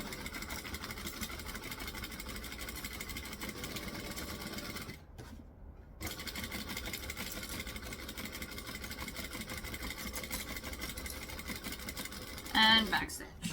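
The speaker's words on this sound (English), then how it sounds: "So we're going to stitch here and back stitch. And work our way along slowly." A sewing machine stitches and backstitches a vinyl bag, giving a steady mechanical whir that stops briefly partway through before the same run resumes, fairly soft and continuous.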